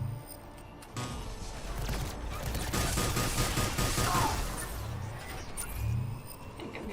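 Sustained gunfire in Mass Effect 3 during a firefight, with rapid bursts and a dense crackling barrage rising and falling over several seconds amid low rumbling thuds.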